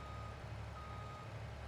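A truck backing up in Farming Simulator 22 gives off steady, rhythmic reversing beeps over a continuous engine hum, fairly loud and without speech.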